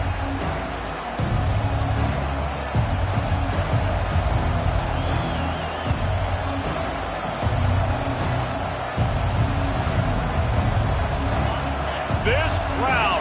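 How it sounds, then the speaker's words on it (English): Dense roar of a stadium crowd in a college football video game, loud and steady after a touchdown and kickoff, with rumbling low crowd noise and scattered thumps throughout. "This crowd, full throat, splitting the eardrums"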